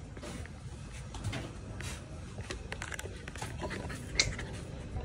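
A husky puppy panting, quick soft breathy huffs in a continuous rhythm, heard close with faint rustling and clatter around it.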